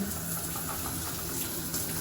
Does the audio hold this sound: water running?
yes